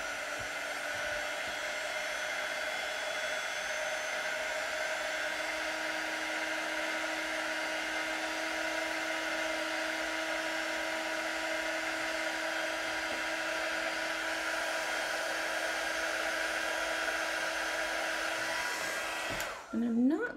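A hair dryer runs steadily on paint for about twenty seconds, a loud, even whine with a constant hum, then switches off abruptly with a brief rattle at the very end.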